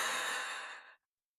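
A deep, slow exhale through the mouth during a hatha yoga breathing exercise, a soft, breathy whoosh lasting about a second that fades into silence.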